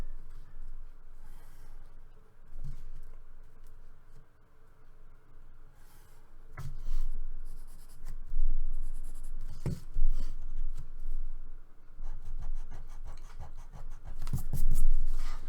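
A pencil scratches lines along a ruler while drawing telephone poles for a one-point perspective train sketch, producing close, dry scraping strokes of varying length with short pauses and occasional taps, no talking.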